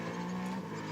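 A Ferrari race car engine at Le Mans holds a steady loud drone throughout a brief moment.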